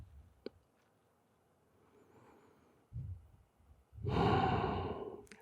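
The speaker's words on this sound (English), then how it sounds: "inhale, and exhale, head down, and breathe" Deep yoga breathing: a slow, soft inhale, then a long, loud, breathy exhale close to the microphone, with no speech.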